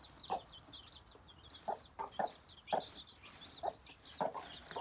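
Farm hens cluck in short repeated bursts, with small high chick peeps scattered throughout, including a little grey chick; the calls are moderately close over a soft background hiss.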